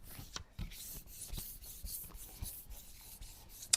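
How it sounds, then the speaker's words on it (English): Pigment paste rubbed by hand, soft scratchy rubbing strokes repeating roughly every half second, faint and close, ending with a small sharp tap. "Just give that a really good rub."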